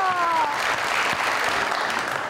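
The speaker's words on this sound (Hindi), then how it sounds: "तालियां।" A studio audience at a televised talk show bursts into steady applause, with dense clapping that runs evenly for the whole stretch.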